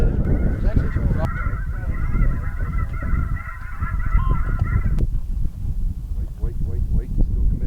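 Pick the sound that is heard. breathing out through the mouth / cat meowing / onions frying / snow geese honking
snow geese honking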